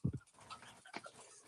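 A dog pants in quick rasping breaths and lets out soft, high whimpers, close by, with a brief louder huff at the start and no talking.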